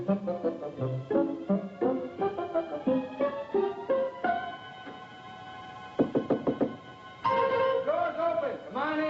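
Someone knocks on a door with a quick cluster of four or five sharp raps, close and clear, set against tonal background music and voices.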